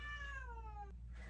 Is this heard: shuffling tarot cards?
no